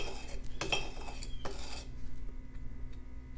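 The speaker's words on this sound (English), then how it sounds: "this is some 80 grit sandpaper. I'm just gonna go ahead and rub that on there" Coarse 80 grit sandpaper rubbed against a knife blade to dull its edge, giving several short bright metallic scraping strokes up close, the first two strongest, then fading to quieter scrapes with no voices.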